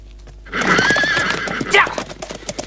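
Horses neigh loudly and gallop with rapid clip-clop hooves in a Jet Li kung fu film chase, a long whinny rising over the drumming hoofbeats, followed by a second sharp neigh and continuing hoof thuds.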